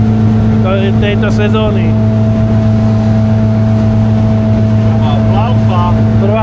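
A motorboat engine runs loud and steady on the Danube during the first ride of the season, a constant drone with voices talking briefly over it.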